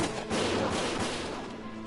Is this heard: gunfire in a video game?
yes